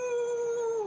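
A person imitates a weak, nervous wolf howl during a Curse of Strahd tabletop game: a single short, wavering vocal howl, close and fairly steady, sliding slightly downward at the end, with no other talk.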